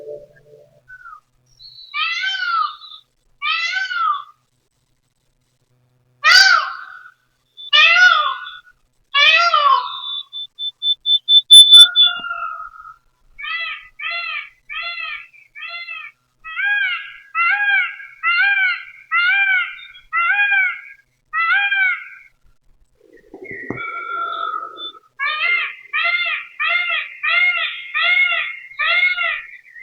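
A series of varied bird calls plays through monitor speakers: clear harmonic chirps and whistles in short repeated bursts, some fast trills, separated by brief silences, with no talking.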